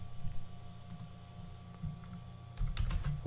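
Someone types values on a computer keyboard, scattered light key clicks that grow busier toward the end, heard over a steady electrical hum and low room noise.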